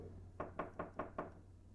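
Five sharp knocks on a front door at night, evenly spaced about a fifth of a second apart, fairly close and clear against a quiet background hum.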